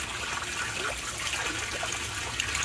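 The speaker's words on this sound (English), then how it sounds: "the bell siphon's going" An aquaponics bell siphon in a garden drains water as a steady, gurgling rush with trickling bubbles. The sound stays even and fairly quiet throughout, with no voices.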